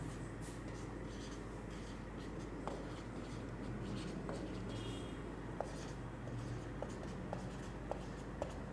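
A pen scratches out formulas by hand on paper, a continuous close scribbling rub with small taps where strokes begin, over a faint steady room hum.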